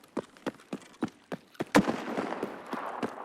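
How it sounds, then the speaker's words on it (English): An M700 rifle in a video game fires repeatedly from outside, a quick run of evenly spaced sharp cracks ending in a louder close shot with a trailing rumble. "I heard a really loud M700 that was constantly shooting outside"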